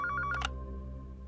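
A telephone rings with short bursts of electronic warbling tones, a few quick pulses then silence, faint under a low background hum.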